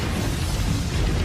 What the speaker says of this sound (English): It's not often you get to see the boss use his god-killing shot!